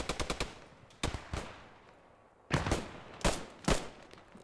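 Gunfire in the WWII shooter Post Scriptum during a competitive match: a rapid burst of four sharp shots, then two separate cracks and, after a pause, three louder close shots with short echoing tails, no talking.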